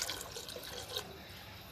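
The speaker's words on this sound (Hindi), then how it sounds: "इसमें ना मैं 3 गिलास पानी के ऐड कर रही हूँ" Water poured from a glass into a pot of spinach for aloo palak, a close, steady liquid splash and trickle that runs continuously with no talk.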